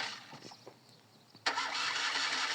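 A motor in a Pat a Mat cartoon sputters through a few weak, uneven starting attempts, then bursts into a sustained rough, noisy running sound for the last second.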